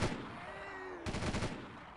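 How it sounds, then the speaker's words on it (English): Hand cannon gunfire in Delta Force 2 sounds as a brief burst of shots at moderate distance, rather faint against the game's background. "I guess I'm holding a hand cannon here"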